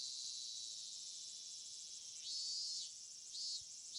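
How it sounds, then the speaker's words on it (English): Cicadas drone in a Higurashi visual novel, a steady high-pitched buzzing chorus that swells louder in two short surges, with no voices. "my body bathed in the lively voices of the cicadas"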